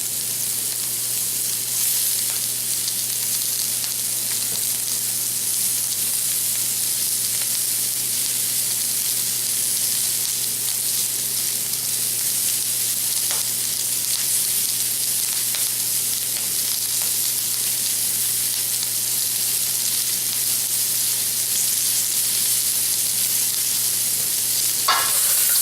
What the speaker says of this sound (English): Peanuts are already roasted, but here we're going to fry them up.